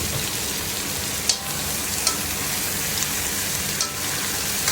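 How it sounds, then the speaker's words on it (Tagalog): Sliced squid sautéing in a pan for Filipino squid adobo, a steady close sizzle with a few sharp clicks of stirring, no talking. "igisa na natin itong kuwan mga idol, pusit na na-slice"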